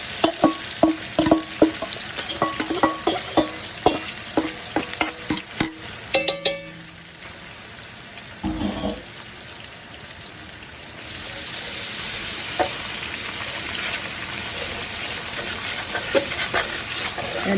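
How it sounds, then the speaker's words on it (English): Vegetables sautéing in seasoned oil for a roux, with a spoon scraping browned bits from the pan: rapid clatter and stirring at first, then a steady, close sizzle that builds louder toward the end. "So all you do is just saute your vegetables and scrape up all that brownness"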